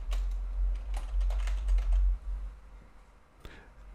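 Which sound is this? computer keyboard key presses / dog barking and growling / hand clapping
computer keyboard key presses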